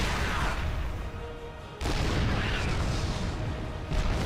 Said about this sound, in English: Gets off the tank shots.